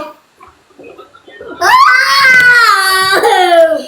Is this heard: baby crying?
yes